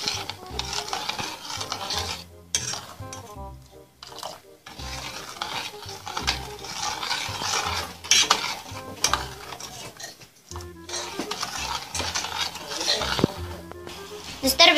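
Lollipop syrup being stirred in a pot over a gas flame, with repeated scraping and clinking of the spoon against the pot and a soft sizzle, interrupted by brief pauses, while a person talks over it.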